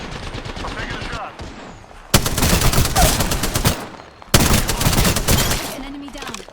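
Rapid gunfire in a video game shooter comes in two loud, sustained bursts separated by a brief lull, with quieter in-game sounds and some faint voice activity between them.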